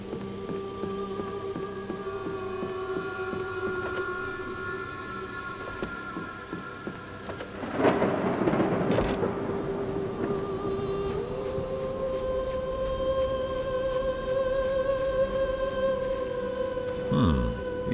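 Steady rain patters through a poisonous storm in the game Spate, with a swelling rumble of thunder midway and continuous tonal game music layered over the downpour.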